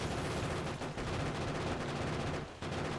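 Rapid gunfire from regular ammo and grenades in Factorio on a death world map, a dense unbroken rattle of shots with brief gaps, moderately loud and steady.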